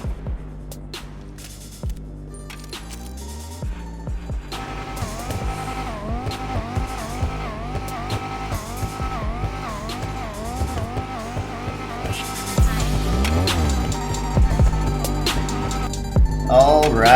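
Banshee 900R sports car in GTA Online revving, shifting and drifting, engine tones rising and falling steadily throughout, joined by tire squeal and a louder surge near the end, all set against a continuous music bed.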